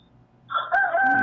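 A rooster crowing close by, a loud single cock-a-doodle-doo rising out of near silence and holding its strained tone to the end.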